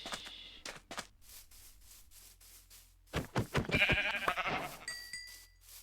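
Sheep in Minecraft bleat in short bursts, and a louder cluster of game sounds arrives midway, quiet to moderate overall, with brief tonal chimes near the end.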